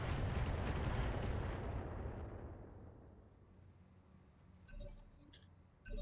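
Incoming weapons fire in the Battletech video game: a heavy explosive boom rumbling and fading over several seconds, followed by a few sharp metallic impacts and clinks.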